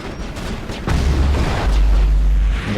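A rocket blast booms in Mass Effect, a loud, heavy low rumble that swells partway through and holds as a dense roar.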